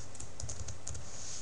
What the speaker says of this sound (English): start typing things in here